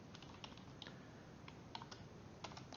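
Typing on a computer keyboard: quick, irregular clicking keystrokes, faint and close, alone with no speech.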